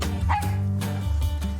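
A dog in a park gives a couple of short yips and barks, close and fairly loud, mixed with a whimpering tone.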